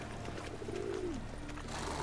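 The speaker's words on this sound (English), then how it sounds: "These really are some brave pigeons." Pigeons coo softly in a town in The Witcher 3: Wild Hunt, one low rising-and-falling call and then a shorter second coo over a steady ambient hum.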